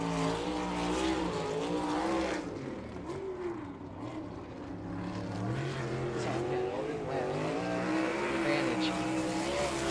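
A non-wing sprint car, car 16, running hot laps on a dirt track, its engine roaring steadily and shifting in pitch as it circles, with an announcer talking over it.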